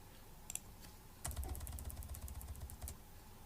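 Faint computer keyboard typing as a formula is entered, a quick cluster of soft key clicks, then a denser run of rapid taps over low background hum.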